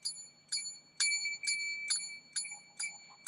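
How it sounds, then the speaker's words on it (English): A small bell is struck about eight times at an uneven pace, each strike giving a bright metallic ring that decays quickly, faint and close in a quiet room. "So when I ring the bell"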